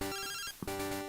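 A Pokémon Crystal phone ringing: a synthetic chiptune ring tone of stacked steady tones, in two bursts with a brief break, loud and clear with no voices.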